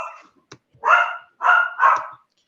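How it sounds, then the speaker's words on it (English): A dog gives a few short barks and yips in quick succession, fairly close and clear with no talk over them, heard at the end of an online book launch discussion. "Oh, there's a dog that really enjoyed the session as well."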